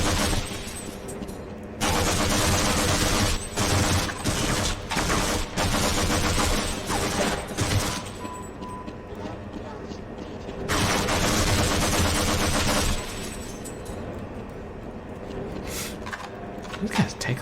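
Rapid bursts of gunfire against enemies in Half-Life, loud clusters of shots repeating in two long volleys with shorter pauses between, under dense game noise and talk.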